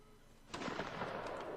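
Cannon fire erupts in a Napoleonic Wars line battle video game, a sudden sharp blast followed by a rumbling, crackling barrage of distant shots that fills the rest of the moment.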